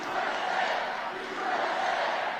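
A packed rally crowd in West Palm Beach, Florida cheers and shouts in a dense, sustained roar with no pauses.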